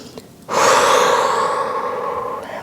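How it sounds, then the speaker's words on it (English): A single deep breath drawn in and held through a long, steady exhale during a Pilates cool-down on a mat, close and clear with no talk. "we'll just take some deep breaths just to ground back down into the mat"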